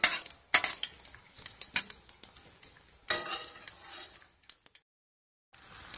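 A Tunisian brik spring roll with burger filling frying in a pan and flipped over: sizzling mixed with sharp clinks of a utensil against the pan, then the sound stops abruptly before a last short burst.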